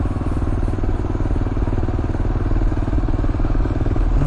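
A 2022 Kawasaki KLR650 single-cylinder motorcycle being ridden on a road, its engine thumping steadily with a fast, even pulse and mechanical clatter, loud and close, with no talking over it.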